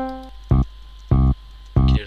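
The FL Keys electric piano in FL Studio sounds a C note three times at an even, steady pace. Each strike is clean and close, cut off short, and no other sound plays between the notes.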